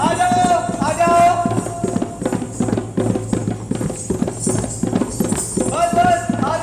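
A horse's hooves clip-clop in a quick, steady running rhythm, close and loud, while people talk over the hoofbeats.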